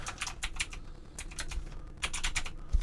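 Rapid typing on a computer keyboard in a quiet living room, clusters of close, crisp key clicks in uneven bursts with short pauses between them.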